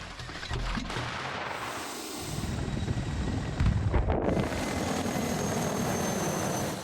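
Military vehicles and aircraft at the Zapad 2025 exercise: a steady loud rotor-like aircraft drone and engine roar carry on throughout, with a short surge of heavier rumble partway through.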